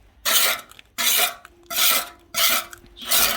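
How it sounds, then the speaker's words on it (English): Gunk is scraped out of a parts washer tray in five loud, rasping strokes at a steady rhythm, each a harsh, gritty scrape separated by brief pauses, close up with no talking. "Scrape off the gunk and just give it a wipe with an old rag."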